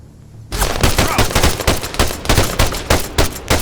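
Rapid bursts of machine gun fire in the military shooter Arma 3, loud and close, starting abruptly after a brief quiet moment and continuing in a fast rhythmic stream of shots.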